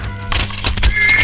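Horses whinny and hooves clip-clop in a Tamil film scene of zamindar's men arriving on horseback, several loud neighs rising over a steady trotting rhythm, close and continuous with no talk.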